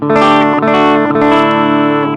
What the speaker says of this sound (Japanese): この PG10 ですね、このボリュームを9時以上上げると、なんと歪んでくる。